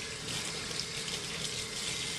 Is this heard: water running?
yes